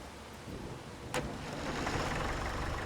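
A small tractor in a farming video game runs with a steady low engine drone that builds slightly louder, one brief clank partway through, with no talk over it.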